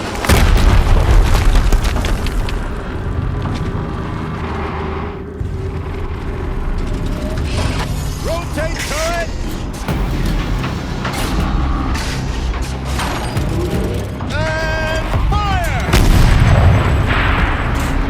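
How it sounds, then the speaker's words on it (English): Heavy booming explosions rumble through a Horizon Zero Dawn battle, with loud low-frequency blasts at the start and end, several bursts and mechanical clanks in between, and game voices and music underneath. "Another explosion."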